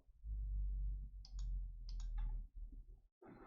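Mouse clicks on Basic 1 in language-learning software: a few short, sharp double clicks close by, over a low steady hum, with no talking.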